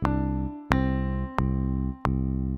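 A single low synthesized C note in GarageBand repeats four times as quarter notes in an even, steady rhythm, each strike sharp at the start and sustaining until the next.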